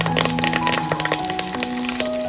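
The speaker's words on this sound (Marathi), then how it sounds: "आपला कढीपत्ता आहे ना आणि जिरा खूप छान प्रकारे तेलात भाजला आहे" Cumin seeds and curry leaves sizzle and crackle in hot oil, a loud, dense frying hiss with frequent sharp pops, close up and steady with no voices.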